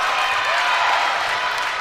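Crowd at a Northern Ireland versus England netball match breaks into steady, continuous applause and cheering, a dense wash of clapping that fills the hall without pause.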